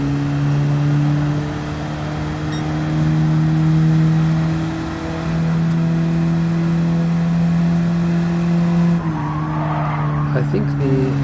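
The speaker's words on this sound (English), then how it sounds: "I really like the sound over the ripple strip." A racing car in Gran Turismo 7 runs over a ripple strip, its loud, steady engine drone holding a near-constant pitch with faint tyre rumble and scrub, shifting briefly near the end.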